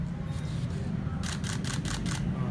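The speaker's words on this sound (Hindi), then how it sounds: "ये जब आप कंटिन्यूस शटर करते हैं, कंटिन्यूस मोड में रखते हैं" A DSLR camera shutter fires in continuous mode, giving five quick mechanical clicks in an even burst. They are heard close over a steady low room hum after a short quiet lead-in.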